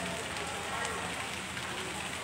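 Rain falling at Daya bus terminal in Makassar, a steady, even hiss of drops on surfaces that is fairly faint and continuous, with no distinct voices.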